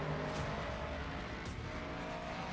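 A Ford Mustang race car in the racing game Assetto Corsa Competizione runs with a steady, dense engine roar and faint tire noise, loud and continuous throughout with no talking.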